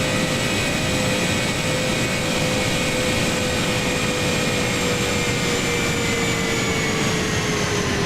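PMDG Boeing 777 jet engines cruising at 38,000 feet in Flight Simulator X: a loud, unbroken jet roar with a steady high whine on top, droning evenly and alone without any talking.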